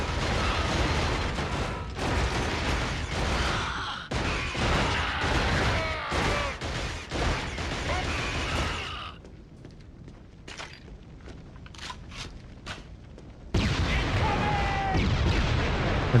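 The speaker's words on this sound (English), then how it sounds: "You are shooting at something." Heavy, continuous gunfire and blasts from a sci-fi shooter video game rattle loudly and up close. They thin to sparse pops in the middle, then the dense barrage comes back, with voices mixed in at times.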